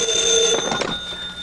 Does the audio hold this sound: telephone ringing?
yes